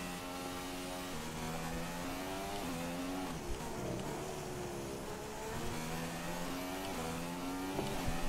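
Formula 1 race car in the F1 2016 video game, lapping the Russia circuit in the rain, with a steady high-pitched engine whine rising and falling through gear changes and revs, loud and continuous with no talk.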